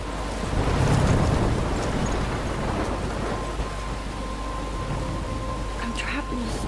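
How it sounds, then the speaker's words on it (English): Stormy sea in the Life is Strange video game, with a steady roar of wind-driven surf and crashing waves that swells early, then settles into a continuous rumbling wash, with a faint tonal hum running through it. "I'm trapped in a storm?"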